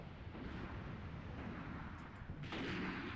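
Mortar or rocket fire falls on a position in the Graviteam Tactics war game, a dense rumbling barrage of blasts with a sharper burst near the end, loud and continuous, with no speech.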